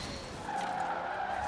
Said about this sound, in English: Just drift it. It is a very easy car to drift, I will say.